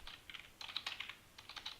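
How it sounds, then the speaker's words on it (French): Rapid bursts of typing on a computer keyboard, close and fairly quiet, with clusters of keystrokes separated by brief pauses. "Je vais taper 3 fois W"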